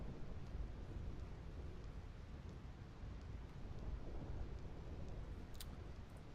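Steady rumbling thunder with continuous rain in the Thunder Plains of Final Fantasy X, a dense low roar holding at a constant level throughout, with a faint brief crackle near the end.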